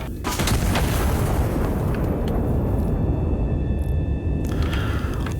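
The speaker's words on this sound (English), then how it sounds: "let's blow up the palace then" A big explosive charge blows up the royal palace in the video game Iron Nest, with a heavy rumbling blast and continuous crackling debris roar lasting several seconds.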